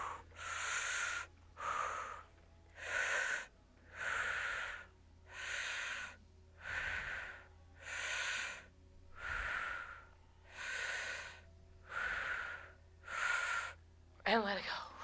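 A person breathes heavily during a chair yoga exercise, with a steady series of loud, rhythmic inhales and exhales, about ten breaths in all, close to the mic.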